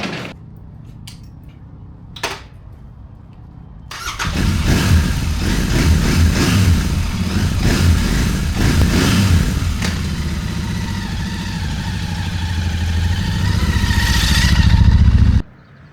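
A motorcycle on a camping trip in Algonquin Park, Canada, starts after a few light clicks and knocks, then its engine runs steadily and revs up as it rides off, loud and close.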